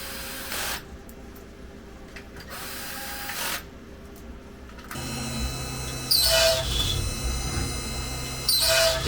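A CNC machine drills a row of holes in a Kydex sheath, giving repeated bursts of high whirring and grinding over a steady mechanical hum. The bursts get louder and busier toward the end.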